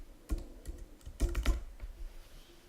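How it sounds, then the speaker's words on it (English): Keys tapped on a computer keyboard as a serial number is entered, a quiet, close run of irregular clicks with short bursts and pauses. "the user will type in the serial number and other information being requested"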